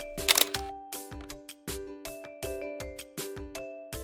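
A camera shutter clicks repeatedly on a short-film set, around nine sharp snaps in quick rhythmic bursts, each followed by a brief electronic whir, close and clear with no talk.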